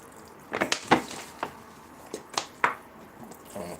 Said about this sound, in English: Let's water the tree a little bit.